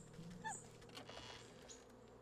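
Bees in the video game Wytchwood, a soft continuous insect buzz with a few faint chirping game tones, quiet and steady, with no talking.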